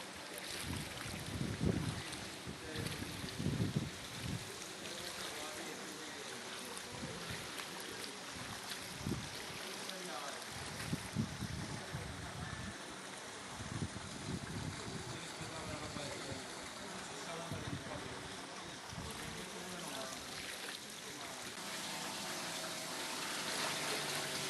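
Floodwater and boats on Burano island in the Venetian lagoon, heard as steady lapping water and a low rumbling engine under gusty wind buffeting the microphone, with faint voices now and then.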